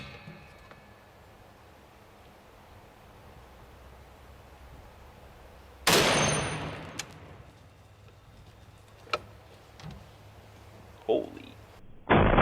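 An armor-piercing black-tip 50 BMG rifle round is fired at a titanium armor plate: a single loud, sharp blast that rings out and decays over a few seconds, followed by a few smaller cracks and knocks against quiet outdoor ambience.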